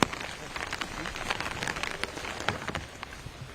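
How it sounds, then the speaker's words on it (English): Heavy steady rain at a golf course, pattering and hissing dense and close with a faint voice beneath. "It's probably the hardest the rain has fallen today since play began this morning with the FPO field"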